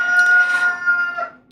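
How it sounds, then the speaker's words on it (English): A household chicken crows loudly and close, one sustained call that tails off near the end. "don't mind the chicken"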